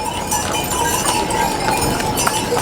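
Horses and mules walk along the Kedarnath pilgrimage trail, their hooves clip-clopping faintly and unevenly within a busy, noisy outdoor crowd.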